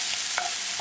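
French beans stirred in a hot pan with a steady hiss and sizzle, a short scrape of the spoon cutting through the frying noise.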